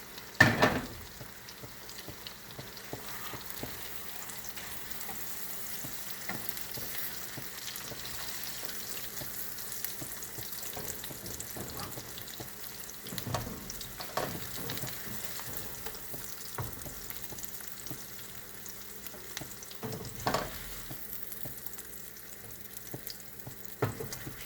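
Pineapple frying in butter on a hot tava gives a steady, low sizzle with occasional scrapes and clatters from stirring, with no one talking.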